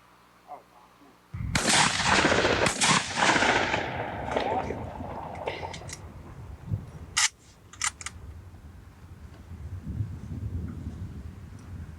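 A sporting clays shooter fires his shotgun at targets during a championship round, one loud sharp blast followed by quieter distant reports and clicks, with a commentator's voice and an outdoor murmur behind.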